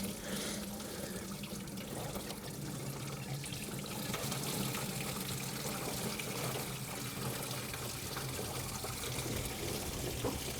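Engine coolant from a BMW G20 M340i with a B58 engine draining into a bucket, a steady continuous splashing pour that stays quiet and unbroken throughout, with no talking.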